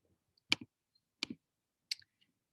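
Three crisp mouse clicks, each a sharp double snap of press and release, spaced about 0.7 seconds apart in an otherwise quiet room while working in a Google Drawing assignment.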